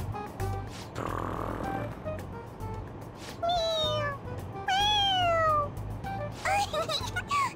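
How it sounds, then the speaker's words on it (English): A toy cat in Persona 5 Royal meows each time its head is pressed, giving three or four clear, rising-then-falling mews. They come up over a low hum of background game ambience, and a soft voice comes through in between. "It meows when you press on its head."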